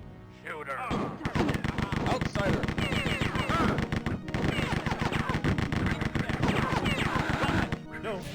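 Sustained heavy gunfire from guns in a video game, rapid machine-gun-like bursts and thumping shots packed densely for several seconds, loud and continuous, with a voice speaking over parts.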